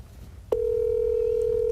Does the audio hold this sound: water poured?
no